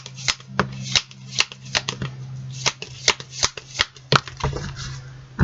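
Tarot cards being shuffled by hand, a steady run of crisp riffling snaps and soft slides, close and clear with no talking.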